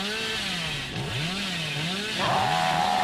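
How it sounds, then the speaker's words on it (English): The Hillbilly's chainsaw in Dead by Daylight revs loudly and continuously, its pitch rising and falling in sweeping waves before surging higher near the end, with no talk. "I can just chainsaw back and forth, which we definitely do."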